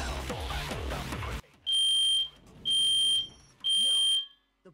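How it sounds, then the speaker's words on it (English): A smoke-alarm style fire alarm in the Danganronpa game sounds three loud, piercing electronic beeps, each lasting about half a second, following a burst of busy sound. "before I was rudely interrupted by a fire alarm"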